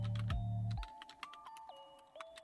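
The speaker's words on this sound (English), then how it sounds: "Let's go to Google and let's type in" Quick run of computer keyboard keystrokes typing a web search, sharp clicking taps at an uneven pace, close and clear, over a low game hum that cuts off early and a few faint electronic tones.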